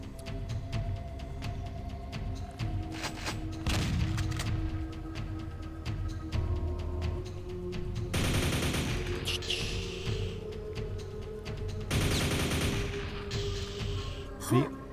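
Rapid gunfire from an infinite-ammo weapon in the video game Quake, loud bursts of shots over busy game music and effects, with heavier volleys near the middle and end; a voice talks over parts of it.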